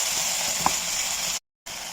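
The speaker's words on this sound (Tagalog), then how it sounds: "Pangkutsa muna natin bago natin palagyan ng sabaw." Carrots and potato sauté in a hot pan for chicken macaroni soup, giving a steady, close sizzle with one brief stir clink partway through and a short gap of silence near the end.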